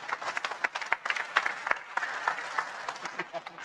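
A small audience at an evening religious study gathering claps briefly, scattered uneven hand claps that rise and thin out within a few seconds, fairly quiet.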